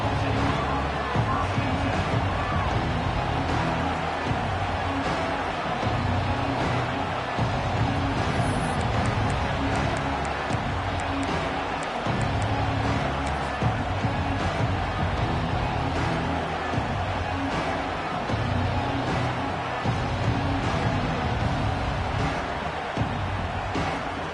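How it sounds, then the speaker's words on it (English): A football stadium crowd roars and murmurs continuously throughout, a dense, steady wall of cheering and babble from a large audience. "This crowd ready to make its presence known."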